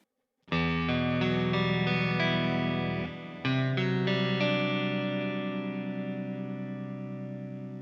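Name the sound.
guitar through Tonex pedal and HX Stomp with delay and reverb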